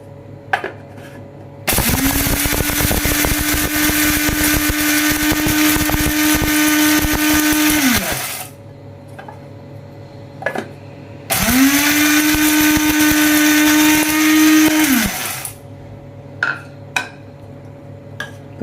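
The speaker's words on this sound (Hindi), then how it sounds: "तो अब ये मसाले पीसने हैं।" An electric grinder coarsely grinds spices with black peppercorns for a dhaba-style dal tadka, running in two long, loud, steady whirring bursts with a short pause between them and no talking.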